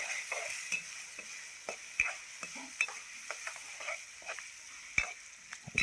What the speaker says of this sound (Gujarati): હલાવી નાખીએ પહેલાં.